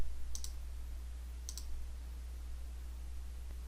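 A computer mouse clicks twice in Civil 3D software, two sharp close clicks spaced about a second apart over a steady low electrical hum.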